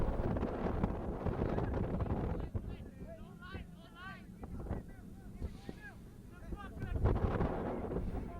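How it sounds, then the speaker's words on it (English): Strong gusting wind at an outdoor youth soccer field during a match, a heavy low rumble buffeting the microphone that swells and eases, with commentary talk and distant voices over it. "That wind gets really strong, then it dies down."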